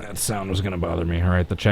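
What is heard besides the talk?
No everyday noise stands out behind the speech.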